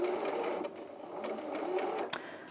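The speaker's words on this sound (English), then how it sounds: "I've got the 1/4 inch foot on my sewing machine" A sewing machine fitted with a 1/4 inch foot runs steadily while chain piecing, giving a fast, even mechanical whir with a sharp click near the end, close and fairly quiet.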